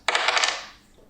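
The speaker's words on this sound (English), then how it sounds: "so I'm going to roll the dice." Dice being rolled, a quick clatter of several rapid hard taps that rattle and settle over about half a second, close and fairly loud, with no talking.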